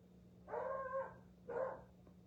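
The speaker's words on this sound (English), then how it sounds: "I apologize, my dog is a dog. He does bark a lot." A pet dog barks twice indoors, two short mid-distance woofs about a second apart, over a steady low household hum.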